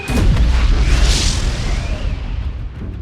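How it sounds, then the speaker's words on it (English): A simulated torpedo launch aboard a nuclear submarine gives a loud, deep booming whoosh that rumbles and slowly trails off, with a faint tonal whine beneath it. "Fire the torpedoes!"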